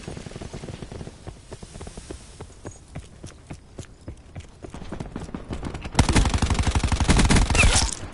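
Rapid bursts of automatic gunfire from Call of Duty Black Ops 4, steady sharp shots throughout that swell into a louder, denser volley over the last couple of seconds.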